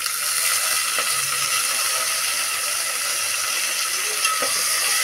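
Garam masala, chopped mint and coriander sizzle in hot oil in a pan, a steady close crackling hiss that holds evenly throughout.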